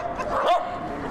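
A dachshund gives a single short bark, close and fairly clear, with a slightly whiny edge and no other sounds around it.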